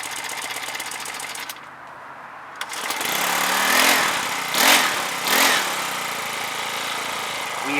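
A GB Moto mini bike's small engine sputters into life, then runs close by with a buzzing drone that swells in a few short rev surges. No one speaks.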